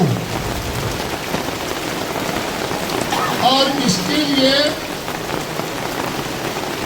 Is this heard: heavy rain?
yes